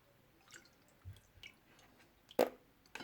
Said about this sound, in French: on la met dans l'eau un petit peu.